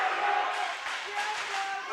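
A cheering section at a college volleyball match roars and whoops in a sustained crowd swell, with an announcer talking over it.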